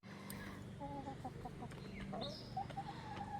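Six backyard hens clucking in their extended coop, with overlapping soft clucks and higher squawky calls close by, continuous low murmuring chatter throughout.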